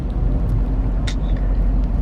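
Steady low rumble of car traffic in Los Angeles, heard from inside a Jeep Grand Cherokee SRT8 sitting in the flow, with a brief brighter hiss near the middle and no speech.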